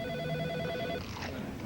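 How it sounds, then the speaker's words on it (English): A telephone bell rings in a television commercial for fast-food chicken tenders, a steady electronic trill held under a faint background hum before trailing off. "That phone is so annoying."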